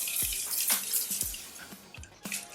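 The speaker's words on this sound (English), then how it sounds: "To finish off my look, I'm using my Caudalie Grape Water. I'm just going to spritz my face." Several quick hissing spritzes of Caudalie Grape Water facial mist, sprayed close up in short separate bursts with brief pauses between, no talking.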